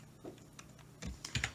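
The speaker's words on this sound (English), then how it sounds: "So I'm going to hit control, press the up arrow," A few computer keyboard key presses, control and arrow keys struck in a quick cluster of soft clicks, close and fairly quiet, with no talk.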